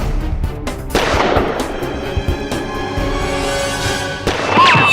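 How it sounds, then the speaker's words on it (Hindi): Several loud gunshots ring out in a TV courtroom drama scene, sharp cracks with echoing tails spaced across a few seconds amid tense background music. "जिस समय मैंने गोली चलाई ठीक उसी समय बिंदिया ने भी गोली चलाई।"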